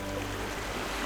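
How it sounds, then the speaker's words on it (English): Distant waves lap against a pier in a steady, even wash of water noise with no distinct breaks. "the distant sound of waves lapping against the pier"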